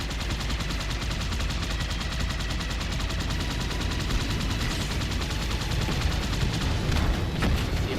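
Sustained gunfire fills a Halo 2 battle against Sentinels on Legendary, a continuous dense rattle of rapid shots and impacts at steady loudness throughout, with no voices heard.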